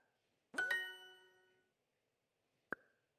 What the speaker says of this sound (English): Notice that the chime gets a little higher.